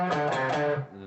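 A single electric guitar note on the D string at the fifth fret is bent up a half step, short and clean, then settles and fades quickly.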